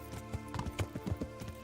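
Horse hooves clip-clop in a steady riding rhythm in the medieval video game Kingdom Come: Deliverance, with moderate loudness and no talk over them.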